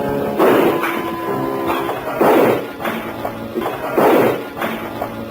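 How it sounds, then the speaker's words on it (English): Three sharp gunshot effects ring out in a detective mystery radio drama, loud and evenly spaced about two seconds apart, each one a hard crack with a short tail. "He came in shooting."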